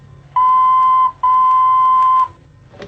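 An EMS VCS3 synthesizer sounds the note E as a pure, steady tone, held in two long loud bursts with a short gap between, over faint background hum.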